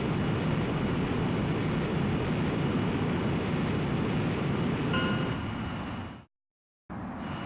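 A jet plane taking off in the video game Ace Combat X gives a loud, continuous engine roar that holds steady before cutting out abruptly into a moment of silence, then resumes.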